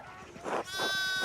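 Sheep bleating on a farm in the video game Pentiment, two wavering bleats in quick succession over a steady, hissy ambient background, with no speech.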